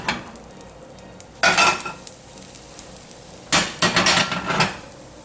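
A pancake flipped in a Star Wars cast iron skillet: two bursts of scraping and clattering metal about two seconds apart, with a steady sizzle running softly underneath.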